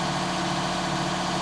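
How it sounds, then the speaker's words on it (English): A John Deere tractor engine runs close by with a steady, heavy low drone and constant vibration, unbroken by any voices. "I can't really hear if it's trying because the tractor's revving."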